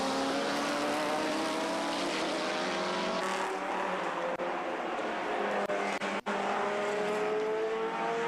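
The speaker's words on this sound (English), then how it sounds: "sight and sounds of these Le Mans cars" Historic Le Mans sports-prototype and GT race cars, including a Porsche and a Mosler, roar past at Brands Hatch, their engines droning loudly and continuously with rising and falling pitch as several cars pass.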